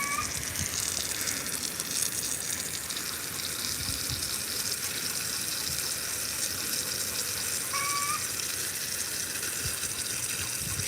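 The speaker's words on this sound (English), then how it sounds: "This guy could use a little water. It's not wilted or anything, but just go ahead and water." A hose waters a young Plinia "Anomaly" jaboticaba fruit tree, giving a steady, unbroken rush of water that runs evenly for about eleven seconds, close and fairly loud.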